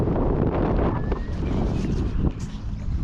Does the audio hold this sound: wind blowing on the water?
yes